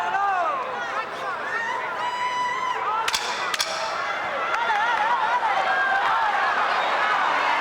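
Two sharp claps of the ten-second warning at a boxing match between Félix Trinidad and Oscar De La Hoya ring out amid a cheering arena crowd, with whistles and a commentator talking throughout.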